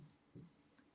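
Chalk or marker writing on a classroom board during a science lesson on soil, a few short scratchy strokes close by with no voices.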